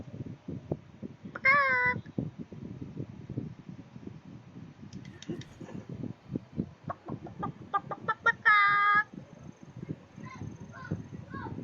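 Cartoonish chicken clucks and squawks from a video game ring out in two short bursts under steady low rumbling play sounds, with a few fainter chirps scattered between.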